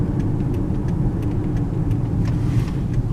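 Steady car engine and tire rumble as a vehicle drives and turns off onto a small side road in a New Mexico national forest, constant and close with faint ticking on top.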